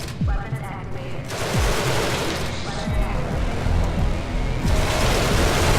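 Weapons fire in a Genesis Alpha One space battle against an alien Queen: rapid, dense bursts of gunfire stacked over a constant roaring mix with sharp low thumps, loud and continuous throughout.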